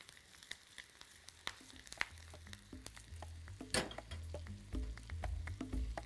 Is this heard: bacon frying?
yes